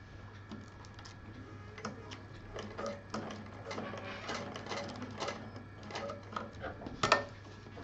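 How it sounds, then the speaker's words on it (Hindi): A sewing machine stitches the hard section of a fabric pouch, running in a steady, close rapid patter with faint voices in the background. "इसलिए इसमें बहुत आराम से मशीन चलानी चाहिए। इसको भी हम 3-4 बार सिल देंगे।"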